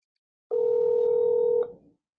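A single sustained telephone dialing tone from the Pavillio televisit phone service, about a second long, clear and steady, then a faint fading tail, with no talk.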